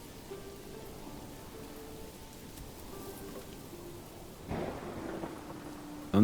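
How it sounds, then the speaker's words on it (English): Steady rain hiss with low rumbling thunder in the medieval city-building game Manor Lords, a soft continuous downpour that swells louder near the end, with no voices. "Thunder and lightning."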